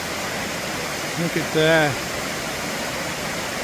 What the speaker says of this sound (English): I'm a waterfall lover.